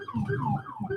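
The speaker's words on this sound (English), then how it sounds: "Police car outside my window." A police car siren wails outside a window, its rising and falling tone sweeping steadily at moderate volume. No voices are heard.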